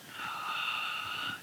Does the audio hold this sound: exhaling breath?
yes